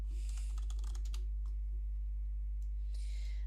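Rapid clattering keystrokes on a computer keyboard come in a quick burst, then a few isolated taps and another short flurry, all over a constant low electrical hum.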